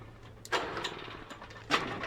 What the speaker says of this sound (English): Everyone's favorite, the lawnmower minigame.